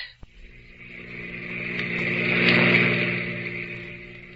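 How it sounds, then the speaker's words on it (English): A car whips past on a dark roadside, its engine swelling from a distant hum to a loud, close roar and then fading away, standing alone without talk in a radio drama scene. "Maxton's car whipped by"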